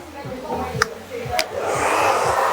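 A hair dryer blows steadily on the back and sides of a men's haircut, rising louder toward the end, with someone talking over it and two sharp clicks.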